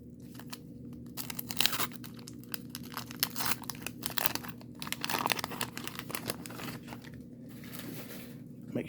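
Foil wax-pack wrappers from a 1982 Donruss baseball card box crinkle and tear in close, continuous bursts, with sharp crunchy peaks scattered through a steady rustle.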